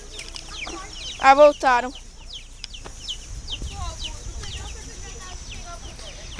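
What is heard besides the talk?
chick clucking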